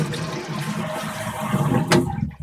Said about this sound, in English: it causes a little bellows on the other side to open. That lifts the device and it lets water flush